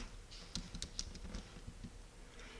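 Rapid keystrokes on a computer keyboard while typing words into a word game, a close, quiet patter of uneven clicks with a few sharper taps.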